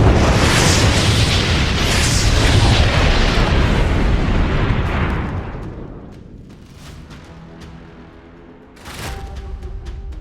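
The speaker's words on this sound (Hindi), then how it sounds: "एक ड्रोन धमाके में हथियार डिपो का नामो निशान मिट रहा है।" Powerful drone-strike explosion at a weapons depot, a loud sustained rumbling blast that slowly fades, followed by scattered crackling pops and a second sharp burst.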